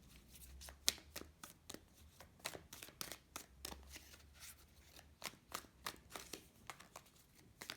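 Tarot cards being shuffled by hand, a faint, close series of crisp riffling snaps and papery slides in irregular bursts, with a few brief card flicks and no voices.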